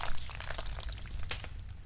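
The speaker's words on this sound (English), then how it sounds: "I'm talking about blood pouring out of my head, the blood hitting the floor" Foley effect of blood pouring and splattering onto a floor for a horror music video, a close, wet, gushing pour with scattered splashy bursts and drips.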